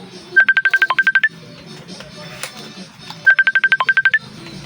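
Phone keypad buttons beep in two quick bursts of about ten electronic dial tones each, the bursts separated by a short pause, loud and close with faint background murmur in between.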